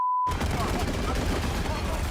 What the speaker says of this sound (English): A line of tanks, every machine gun going.